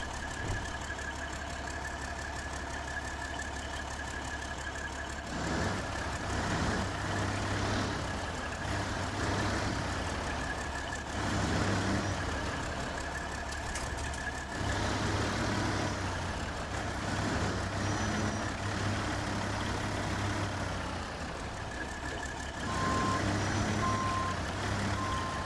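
An American truck in the SnowRunner video game drives along with a steady low engine drone that swells and eases as it moves, intermittent reversing beeps sounding near the end, with no talking.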